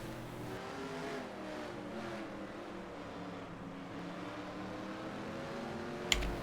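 A NASCAR race car engine in the NASCAR Racing 2003 video game, running at the Daytona road course, drones steadily at a sustained high pitch with slight rises and falls. A brief sharp click comes near the end.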